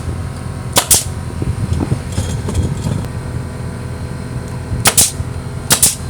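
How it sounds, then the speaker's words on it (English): A siding nail gun, used in place of a joist hanger gun, drives nails into a metal bracket on a deck post: one sharp crack, then after a pause two more close, loud shots over steady background noise. "it's a siding gun, and you should have a joist hanger gun, but that's all we had, and it works great"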